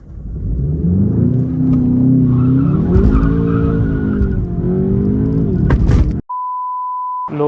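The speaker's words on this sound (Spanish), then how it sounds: "vamos a ver cómo funciona el Launch Control." A 2026 Volkswagen Jetta GLI launching hard under launch control: the engine climbs through rising gear pulls with a tire squeal, loud and close, cuts off abruptly, then a steady electronic beep follows.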